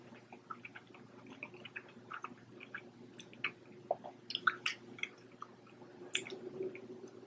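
Close, quiet mouth sounds of someone eating goat cheese pasta: soft wet chewing and squishing with occasional sharper smacks, irregular and continuous with no talk.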